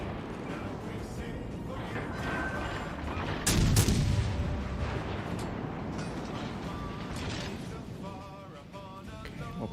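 Naval gunfire in World of Warships, a dense rumbling barrage with one heavy boom standing out near the middle over a continuous battle din.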